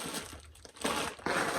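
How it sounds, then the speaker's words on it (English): Shipping packaging being shuffled and crinkled while items are packed, two close bursts of crackling plastic rustle separated by quieter handling. "Sorry for all the shuffling and ruffling."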